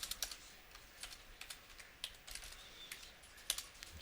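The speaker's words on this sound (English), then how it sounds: "Help if I could type." Quick, light keystrokes on a computer keyboard tap in an irregular rhythm, faint and close, with brief pauses between short bursts and no voices.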